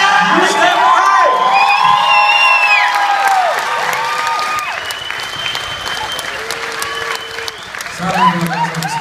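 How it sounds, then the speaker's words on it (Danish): A crowd applauds and cheers loudly after a song at a Danish municipal election campaign event, with dense clapping, whoops and shouted voices that gradually ease off before swelling again. "Godt bifald"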